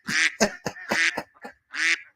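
A duck sound effect quacks in a quick series of loud, nasal calls, about six bursts with short gaps, heard alone and up close.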